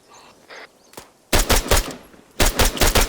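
Gunfire in the Arma 3 multiplayer military game, two loud bursts of rapid automatic fire crackle close by after a quiet start with a single faint shot.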